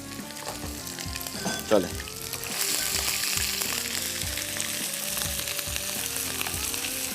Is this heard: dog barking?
no